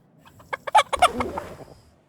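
A chicken clucks in a video game, a short burst of sharp, bright clucks rising and then trailing off, clear and alone.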